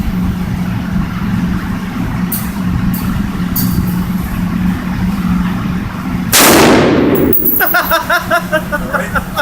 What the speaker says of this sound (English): Put it in the fire. Fire one round.